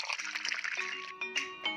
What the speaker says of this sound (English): First, fetch a glass. Add water to it